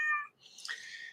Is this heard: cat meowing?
yes